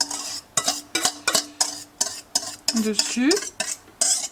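A utensil stirs eggs with mushrooms and lardons in a pan, making a rapid run of close scraping and clinking strokes in a steady rhythm, with a brief hum or whistle partway through.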